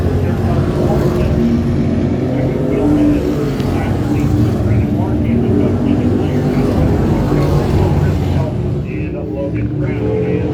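ThunderCar Sportsman race cars roar around a speedway in a heat race, with engines droning loudly and continuously and a few revving surges as cars pass near the track.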